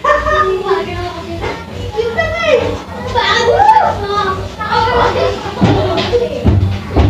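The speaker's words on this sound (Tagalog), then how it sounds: "Pasensya na kayo sa ingay ng mga bata ha." Children shouting and playing in a crowd at an outdoor political rally in Bulacan, their voices steady and fairly loud throughout with adult chatter mixed in.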